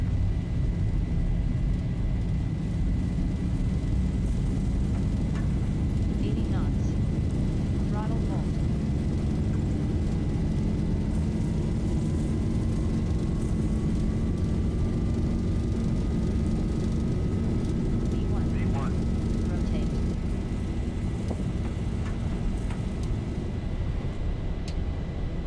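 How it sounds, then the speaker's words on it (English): Boeing 737 jet engines roar steadily at takeoff thrust in the X-Plane Zibo mod simulator, a loud continuous rumble with a rising whine, while voices talk over it. "Takeoff thrust set."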